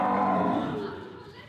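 A cow in India gives a single long, low moo, loud and close at first, then trailing off to quiet.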